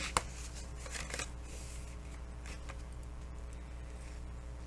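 Folded paper folio pieces being burnished, a soft steady rubbing and brushing of paper with a few sharper scratchy strokes near the start, close and quiet without talking.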